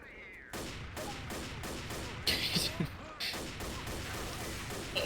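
Rapid gunfire in the Risk of Rain video game, with dense bursts of shots and sharp impact crashes under a steady game soundscape; a voice is heard talking over the action.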